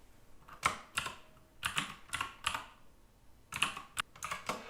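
Computer keyboard typing in short bursts of quick, close key clicks separated by pauses, crisp and fairly quiet with no talking.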